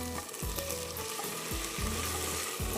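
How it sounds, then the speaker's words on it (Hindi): Ginger, garlic and onion fry in a pan, a steady close sizzle broken by several stirring scrapes at an uneven rhythm, with nobody speaking. "अभी ये अदरक लहसुन और प्याज फ्राई"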